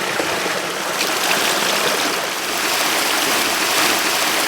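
Stream water pouring into a turbine intake, a loud, steady broadband rush and splash heard close, constant and unbroken without any voices.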